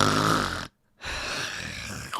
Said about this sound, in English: He has a very deep snore that keeps them all up